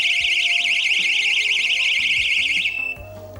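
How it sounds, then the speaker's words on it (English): Motion-detector alarm sounding a loud, warbling high-pitched siren with a steady wobble, which stops abruptly near the end and leaves faint background noise. "It's detected motion. Alarm's going off."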